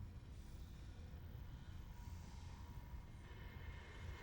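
Train ride aboard the damaged Ishimura spacecraft in the 2023 Dead Space remake: a steady, continuous low rumble of rolling rail cars with a faint mechanical hum, holding at an even level without breaks.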